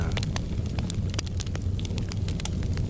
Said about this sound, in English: I love the sound of flames. I mean, like crackling wood.